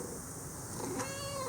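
A pet kitten meows once near the end, a short tonal cry rising out of a steady low room hum with no talking.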